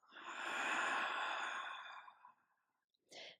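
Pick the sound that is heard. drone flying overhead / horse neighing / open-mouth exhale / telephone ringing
open-mouth exhale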